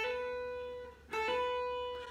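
A single electric guitar note on the high E string rings, then a quiet hammer-on sounds partway through without a new pluck. It is soft and sustained, with no other sound.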